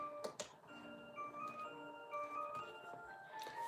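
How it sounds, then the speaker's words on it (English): Several clocks ticking indoors at a Tennessee sawmill, faint steady ticks layered over a low background hum, with a few sharper clicks near the start. "He loves to hear those clocks run."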